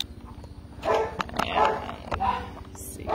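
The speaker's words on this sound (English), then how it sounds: "we're just going to ignore the dog barking" A dog barks indoors in several short yaps, somewhat distant and muffled.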